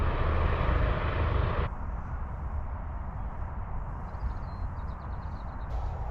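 Light aircraft landing at Barton Aerodrome, heard from outdoors as a steady broadband engine drone, louder at first then dropping to a lower, even rumble that continues throughout.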